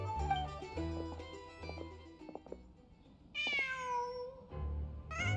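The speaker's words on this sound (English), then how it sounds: "Just a cat." In Genshin Impact, a cat gives a clear drawn-out meow with a falling pitch, heard alone over soft game music.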